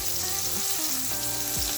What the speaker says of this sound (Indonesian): Nih aku lagi goreng si ikan crispy-nya pakai kompornya yang sedang aja